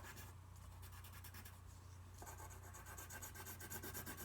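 Brown colored pencil shading on paper, a soft continuous scratchy rubbing in quick back-and-forth strokes, close but very quiet, over a low steady hum.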